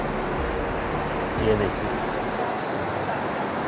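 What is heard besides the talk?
water of the Kohala waterfall in Kashmir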